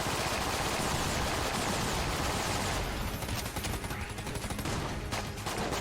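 Sustained rapid fire from a high-damage gun in the game Enter the Gungeon, a loud, dense barrage of shots that roars continuously and then thins into crackling bursts.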